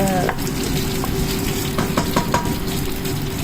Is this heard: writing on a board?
no